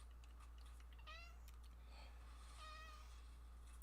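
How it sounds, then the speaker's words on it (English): A cat meows twice in rising, drawn-out calls about a second and a half apart, faint and somewhat distant over a steady low hum. "I don't want to play with you right now, you dumb cat."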